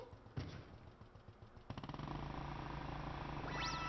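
Motorbike in Super Mario Odyssey: a thud, then the engine sputters to life and settles into a steady, close rumbling idle rising in pitch near the end, with no talking.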